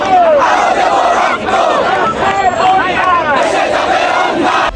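A large crowd of student protesters chants slogans loudly and continuously at night at Dhaka University, voices rising and falling in rhythmic shouted unison throughout.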